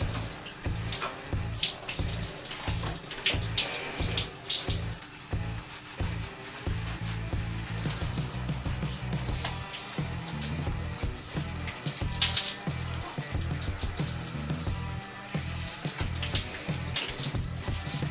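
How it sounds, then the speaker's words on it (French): Cold water pours steadily from a shower over someone washing their hair, a continuous close hiss and splatter with irregular thumps and shifts as the stream is interrupted, no speech. "je viens de réaliser que là c'est le dernier jour où je me lave les cheveux à l'eau froide"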